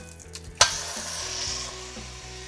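Vegetables hitting a hot pan with a sudden loud burst of sizzle, then a hissing fry that gradually settles to a steadier, softer crackle.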